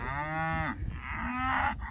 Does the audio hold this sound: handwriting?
no